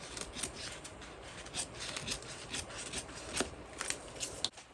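Scissors trimming fabric and thread ends while sewing a bag, a close series of small crisp snips and rustles, irregular and quiet.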